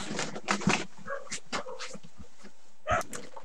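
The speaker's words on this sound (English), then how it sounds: "My dog decided to go berserk." A pet dog indoors goes berserk after a knock on the door, letting out several loud barks in a burst, then yips and whimpers, and one more sharp bark after a pause.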